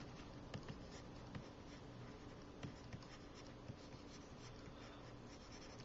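Pencil scratching across paper while sketching a lion's legs, a steady soft rasp of strokes with a few sharper taps, close and quiet, no talking.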